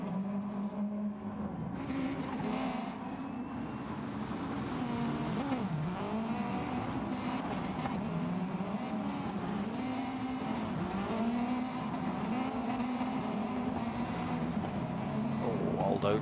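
Rally car engine droning and revving steadily on a dirt time attack course at Colorado Springs, with pitch swells as it slides through a big drift, heard continuously at moderate distance over commentary.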